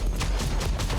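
Meteor and explosion spell attacks from the Sorceress class in the video game Lost Ark burst in rapid succession, a dense, loud volley of booming impacts that barely lets up.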